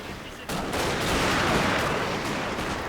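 Massed musket volleys from troops in the video game Total War Shogun 2, French Marines under fire, a sudden burst of dense crackling gunfire that swells and holds as a continuous fusillade.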